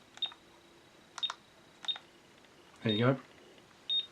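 A replica Egyptian Sliders timer prop beeps as it counts down, sharp single tones spaced about a second apart with a longer burst near the end, while someone briefly speaks nearby.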